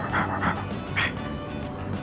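Koromaru, a dog in Persona 3 Reload, gives a few short close barks and yips over soft game background music.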